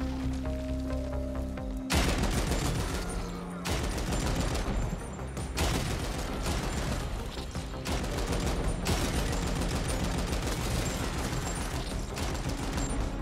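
Rapid, clattering gunfire from a weapon in the video game Ascent, bursts of dense crackling shots separated by short gaps, loud and steady over a faint background hum.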